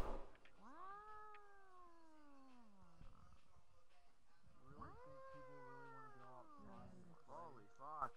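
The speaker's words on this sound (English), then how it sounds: "Greedy, it's your cat" A pet cat meows loudly and at length nearby, with long drawn-out wailing cries followed by shorter, quicker meows toward the end, while people talk in the background.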